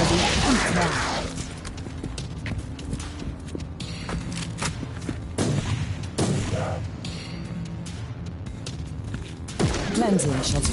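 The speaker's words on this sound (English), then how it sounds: "Cleansing shots fired." Gunshots fired in the Warhammer Inquisitor video game: a string of sharp, loud reports in irregular bursts, mixed with footstep-like clatter and other game sounds.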